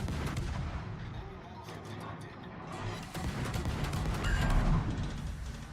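Heavy warship guns booming in a World of Warships naval battle, a dense barrage of loud, overlapping blasts and rumbling impacts over several seconds.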